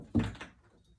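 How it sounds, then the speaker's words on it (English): A door pulled against a door security device catches with one solid thunk, close and moderately loud, then a softer secondary knock and a short fading rattle. "if I do have the door open and it didn't click all the way, if I pull, it'll open this way"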